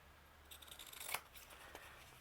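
Scissors cut straight across paper for a small handmade booklet, a quiet close series of crisp snips building to one sharper closing snip, followed by a faint last cut, with no talk.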